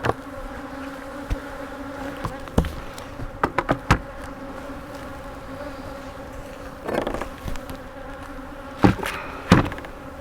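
Honey bees at an open hive swarm around a beekeeper during bee yard chores, a loud steady close buzzing drone with insects zipping past the ear now and then.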